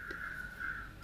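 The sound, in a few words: crows cawing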